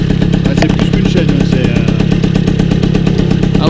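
A Motobécane custom moped engine runs steadily nearby, a fast even putter with rattly vibration and no rise in revs, loud and continuous throughout.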